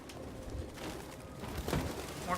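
Pigeons coo softly in a Detroit: Become Human game scene, with a few low murmuring calls rising briefly over a dim background hum.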